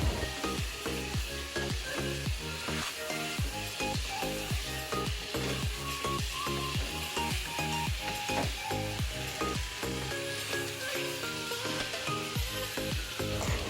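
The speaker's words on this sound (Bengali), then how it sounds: "তো সেইভাবে হালকাভাবে একটু নাড়াচাড়া করব আর গ্যাসের ফ্লেমটা একটু লো আঁচে করে রাখবো" Lemon chicken fries in a pan over a low gas flame, a loud steady sizzle broken by rhythmic scraping and clacking as it is gently stirred again and again, with no talking.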